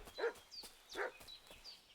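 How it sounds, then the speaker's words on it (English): A dog barking in the medieval game Kingdom Come: Deliverance 2, two or three short, distant-sounding barks and yips spaced under a second apart, fairly quiet. "What's that dog making such a fuss about?"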